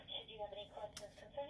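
A telephone answering machine plays back a caller leaving a message, heard faintly as a thin, tinny voice with a narrow, phone-line quality and a short burst of hiss partway through.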